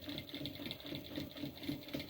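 A sewing machine stitches a small tote bag with a quick, even mechanical whir and rhythmic rattling pulses, heard at close range at a modest level.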